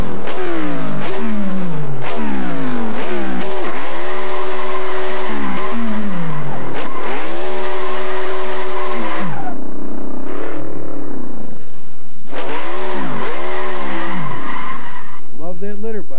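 A car engine in second gear revs hard and accelerates, loud and close, in repeated rising sweeps that break off and climb again, with tire squeal and clatter mixed in.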